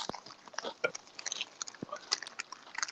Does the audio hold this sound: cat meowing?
no